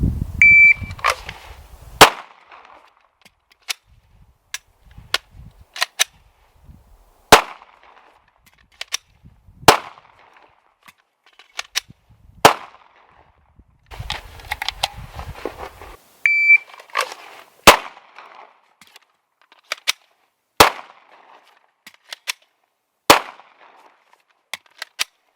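Pistol shots during emergency slide lock reload drills, one round fired per magazine: sharp single cracks spaced several seconds apart, with magazine and slide handling clatter between them and a faint beep now and then.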